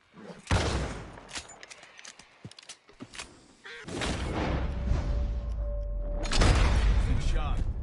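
Gunfire in Red Dead Redemption 2: a few sharp, loud shots ring out several seconds apart over an outdoor game ambience with faint hoofbeats, while voices talk between them.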